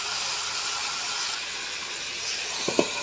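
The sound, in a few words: chicken pieces sizzling as they are added to fried onions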